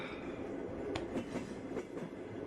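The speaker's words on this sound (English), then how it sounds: "Yeah, all the fun of riding a Russian train" A Russian train car in a video game rolls along with a steady low rumble, soft rhythmic clacks of the wheels and faint rattles, continuous and without voices.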